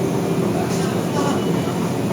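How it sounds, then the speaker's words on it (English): Steady roar and rumble of a double-decker underground train running through Paris, heard from inside the carriage with a constant high whine above the noise, loud and unbroken. "Double-decker train before, but these are double-decker undergrounds"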